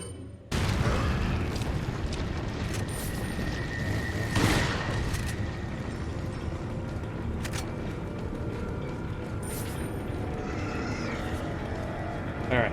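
A grenade blast in the video game Resident Evil 4 bursts loud and booming near the start of a dense, continuous game soundscape, with a sharper hit following a few seconds later and steady action noise throughout.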